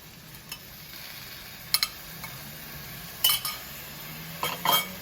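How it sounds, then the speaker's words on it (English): Sauce being stirred into a Chinese stir-fry with egg and Chinese sausage in a pan, with faint scraping and a few sharp utensil clinks against the pan scattered over a quiet, steady background. "and then I'm going to go ahead and add the rest of this sauce"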